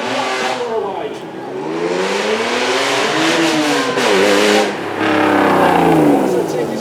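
A Honda-built car tuned by Ayrton Senna accelerates hard away from a standstill at a supercar show, its engine note climbing and shifting up through the gears, loud and close, with a crowd's murmur and a voice underneath.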